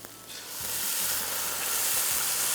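Chicken stock poured into tomato paste in a hot pan, the steady sizzle swelling as the liquid hits and continuing loud and close, with a few soft stirring scrapes.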